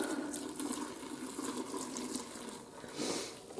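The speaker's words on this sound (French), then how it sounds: "on va rajouter 1 litre d'eau. Et tiède." Lukewarm water, about a litre, pours steadily into a homemade laundry detergent mix, a continuous close splashing flow with slight surges, no talk.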